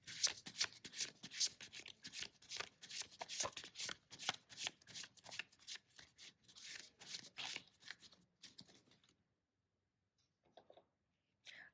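Tarot cards being shuffled by hand in a rapid, rhythmic series of crisp riffling bursts, close and clear, stopping abruptly near the end into near silence with a couple of faint rustles.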